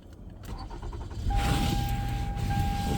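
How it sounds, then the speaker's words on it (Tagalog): A car starts up during a snowstorm, a low engine rumble building after a second into a steady idle with a thin whine, close and continuous, with no talk. "Pandarin natin yung sasakyan natin."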